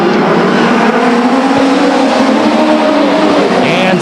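A pack of stock cars at Stockton 99 Speedway roars past the grandstand, a dense, steady engine drone that stays loud throughout with a faint high whine near the end.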